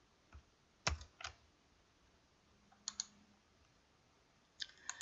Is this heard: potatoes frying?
no